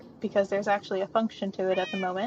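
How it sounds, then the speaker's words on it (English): Several cats meow repeatedly in a paper-making room, their drawn-out, rising cries mixed closely with a person talking. "You might be able to hear the cats meowing as well"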